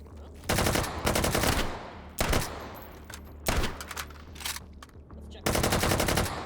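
Gunfire in the VR shooter game H3VR: several loud bursts of rapid automatic fire with short pauses between them, close and sharp.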